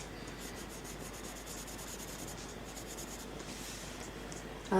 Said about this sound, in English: Today I'm colouring in doodles.